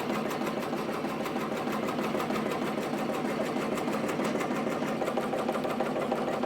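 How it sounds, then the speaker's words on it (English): A Ricoma MT 1501 embroidery machine stitches steadily at 700 stitches per minute, giving a close, loud, continuous rapid mechanical clatter with an even rhythm throughout. "Got it running at 700 stitches per minute"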